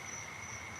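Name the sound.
crickets and tree toads chirping outdoors at night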